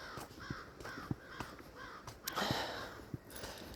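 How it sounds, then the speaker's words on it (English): Crows cawing outside, a run of repeated harsh calls at moderate distance, mixed with a few soft thumps and a brief rustling burst. "the crows are all around"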